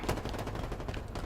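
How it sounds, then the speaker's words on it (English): Rapid bursts of video game weapon fire from a grenade launcher, a dense, steady crackle of shots lasting about a second and fairly loud, with no talk over it. "Oh, that's a grenade launcher."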